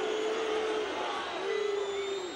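A boxing crowd in Belfast jeers and bellows at a Frampton–Martinez rematch, a dense, steady roar of many voices with scattered whoops and a high whistle.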